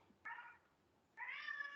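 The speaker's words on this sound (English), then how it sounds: "You can probably hear Link meowing." A pet cat named Link gives two short meows, the first brief and the second slightly longer, heard quietly and close by in an otherwise still room.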